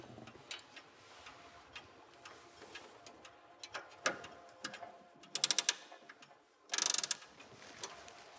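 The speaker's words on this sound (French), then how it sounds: "Il doit remonter dans la matinée près de 80 pendules et horloges." A clockmaker winding clocks and pendulum clocks at Versailles: quiet ticking and clicking ratchet turns, with a few short bursts of fast, rattling winding, close and intimate in a hushed room.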